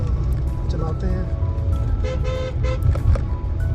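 A car driving off along a mountain road between Manali and Spiti, steady engine rumble with a few short horn toots, heard close alongside a person talking.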